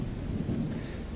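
Steady rain pours over a town, a dense continuous wash with a low rumbling roll of thunder underneath, with no voices.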